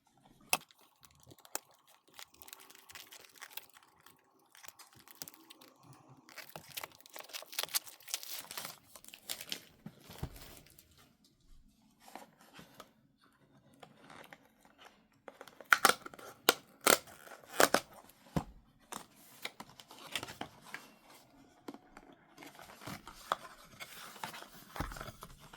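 A Pokémon booster box being opened with scissors indoors, with scattered crinkles, snips and tearing of plastic wrapping, faint at first, then louder in bursts of sharp crackles near the end.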